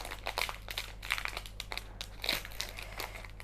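A Pokémon card booster pack wrapper is torn open and crinkled up close, giving a string of sharp, irregular plastic crackles and rips over a steady low hum.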